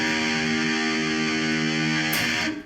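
Distorted electric guitar tuned down to E flat, sustaining a thick, buzzing chord that rings steadily and loud before being choked off near the end; heard alone without talk.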